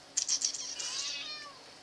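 A pet cat, one of three in the house, meows several times in close succession, asking for food; the calls are fairly soft and near, with no talk over them.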